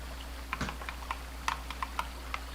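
Computer keyboard keys pressed in a quiet room, about a dozen light irregular clicks and taps spaced across a couple of seconds over a low steady hum.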